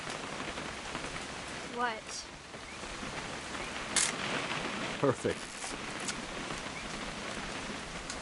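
Steady rain hiss fills a video game scene throughout, constant and fairly loud, with a few brief chirps, a click and short spoken words rising above it.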